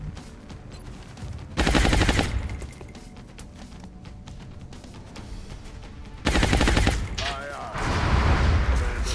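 Suppressing fire in XCOM Long War: two loud bursts of rapid automatic gunfire, the second followed by further clattering fire, with quieter game ambience and mechanical clicks between them.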